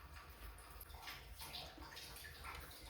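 Water runs steadily into a household water tank, a continuous rushing and splashing wash with faint gurgles that holds at an even level throughout, with no talking over it.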